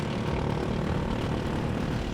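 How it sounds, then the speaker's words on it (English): A go-kart engine buzzes loud and close on a Singapore kart track, a dense, steady drone that never lets up, from a rival kart running right behind another kart. "I can hear the engine of Ian behind me"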